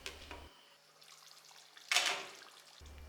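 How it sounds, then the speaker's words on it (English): Water poured into a stew pot over chicken pieces, a short splashing rush that swells and fades in the middle, with quieter trickling before and after. "submerge the chicken back with water and simmer until the meat is tender"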